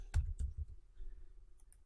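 A computer mouse clicks a few times in quick succession, close and quiet, with no talking, while Add Islands is chosen during document management software training.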